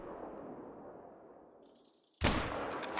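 A single loud rifle gunshot fired at an animal while hunting in TheHunter: Call of the Wild, ringing out sharply after a near-silent pause and trailing into a decaying echo.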